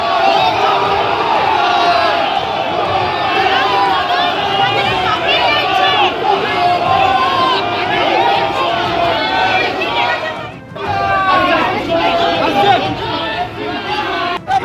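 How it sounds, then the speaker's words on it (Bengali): An agitated crowd surrounding Mamata Banerjee shouts slogans at her, a dense, loud mass of overlapping raised voices that keeps up almost continuously, with a brief dip partway through. "চোর চোর স্লোগান দেওয়া হয়।"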